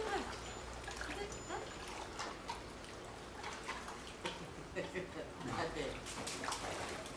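A dog's tail swishing and splashing in its pool water, soft intermittent splashes and trickles close by, under a voice talking to the dog.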